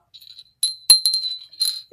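A small vintage bell with its inner clapper, in excellent shape, set down and rung on a shelf, giving a few bright metallic dings and rattles spread over about two seconds, close and fairly loud.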